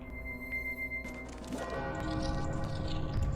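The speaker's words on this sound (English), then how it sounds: "I do like how you can at least hear the bell" A bell in the video game Majora's Mask rings with a resonant, fading tone, followed by a swelling musical wash that builds and sustains to the end.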